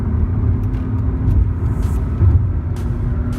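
A Mercedes-Benz C230 (W203) engine rumbles loudly and continuously from inside the car as it accelerates, a dense low drone with a brief swell partway through and no speech.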